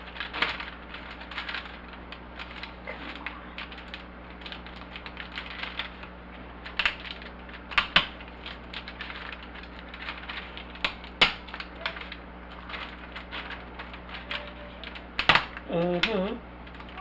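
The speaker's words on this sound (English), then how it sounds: "I'm going to cut these down the center." Lobster tails being cut down the center, a series of sharp cracking and crunching snaps of shell spread irregularly, close by, with a voice speaking at points.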